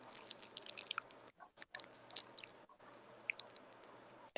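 Someone munching on a cookie nearby, with soft crunchy chewing and squishy bites repeating irregularly in short bursts, brief pauses between, and a sharper sound at the very end.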